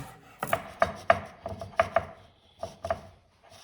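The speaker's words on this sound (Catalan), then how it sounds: "Piquem el julivert." A knife chops parsley finely on a board, a run of crisp, irregular taps about two or three per second, close and fairly quiet, with short pauses between bursts.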